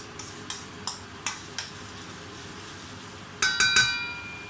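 Garlic frying in oil in a wok is stirred with sharp, evenly spaced scraping strokes over a faint sizzle, ending in a quick cluster of metallic clinks.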